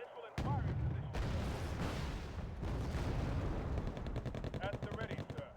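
A missile launch in a military video game with armored vehicles: a loud whooshing roar bursts in and rumbles on amid dense gunfire, then gives way to rapid machine-gun bursts near the end.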